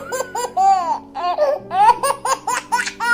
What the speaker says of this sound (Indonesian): Suara bayi Jawa.